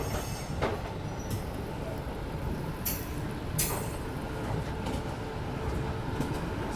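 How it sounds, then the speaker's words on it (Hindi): A train pulling into platform 7 at New Delhi station, a low steady rumble of wagons with a few sharp wheel squeals and clanks, heard at a moderate distance. "अपनी ट्रेन प्लेटफॉर्म नंबर 7 पे आ चुकी है"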